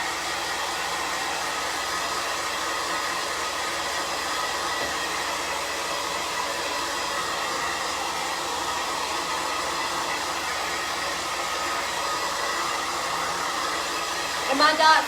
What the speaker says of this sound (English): I'm going to blow dry this really quick